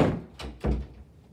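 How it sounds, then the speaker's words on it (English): A door is pushed shut in a physics department office, giving a heavy thunk followed by a second, louder knock as it settles into the frame, close and without talk. "I'm going to take this R and plug it in here after I shut the door."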